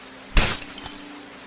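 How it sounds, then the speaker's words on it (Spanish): A window pane shatters in one loud, sudden crash, and glass fragments tinkle and scatter for about half a second before fading. "escuchó que una de las ventanas se había hecho añicos"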